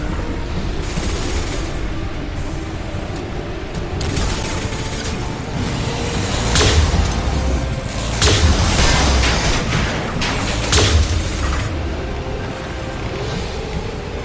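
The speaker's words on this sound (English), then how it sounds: "Deploying incineration tank." An incineration tank weapon fires in Mass Effect 2 combat, a loud roaring blast with rumbling bursts and booms swelling in the middle, layered over dense game noise.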